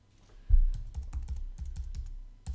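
Fast keystrokes on a computer keyboard as a sudo command goes into a terminal, roughly a dozen sharp close clicks in an uneven burst, no talking.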